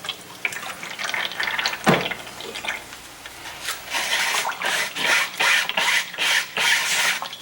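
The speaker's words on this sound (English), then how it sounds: "I'm just going to run it through an 80 mesh screen" Liquid clay glaze scrubbed through an 80 mesh screen with a small fingernail brush, a run of wet rubbing and sloshing strokes that grows steadier and more rhythmic toward the end, close and alone.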